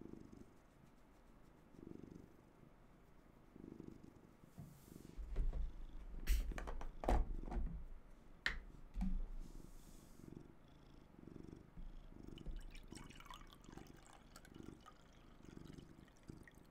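A cat purring close by, a soft rhythmic rumbling in slow repeated cycles, with occasional clicks and rustling over the top.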